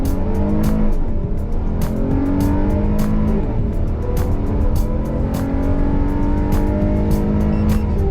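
Kia Sedona and Honda Odyssey minivans accelerating hard: a loud, continuous engine note climbs in pitch and drops back at gear changes, then builds again, with no voices.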